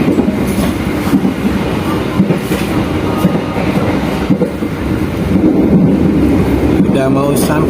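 Passenger train riding on rails while seated in the third car, mid-train, on approach to Cepu, with a steady rumbling roll and faint clickety-clack of wheels continuing throughout, loud and close.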